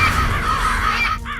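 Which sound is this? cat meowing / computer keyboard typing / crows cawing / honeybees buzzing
crows cawing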